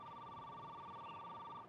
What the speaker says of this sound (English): Excuse me, that's my private phone.